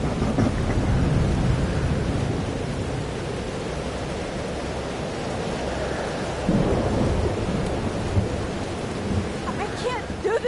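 Thunderstorm in Life Is Strange Double Exposure, a dense continuous roar of rain with low rumbling thunder throughout, loud and steady with no voices.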